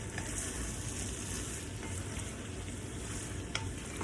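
Pork and ginger stir-frying in a pan, a steady loud sizzle with faint stirring scrapes throughout and no voices.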